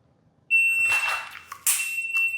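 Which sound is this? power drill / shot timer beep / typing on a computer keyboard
shot timer beep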